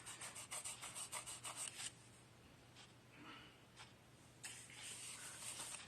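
A stamped paper card being rubbed firmly by hand: a run of quick, rhythmic scraping strokes, then a quieter gap with a few faint scrapes, then rubbing resumes. Close and soft throughout, with no talking.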